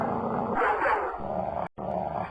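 A dog growls low and rough at close range, then rises into a couple of snarling yips and pauses briefly before the rumbling growl starts again.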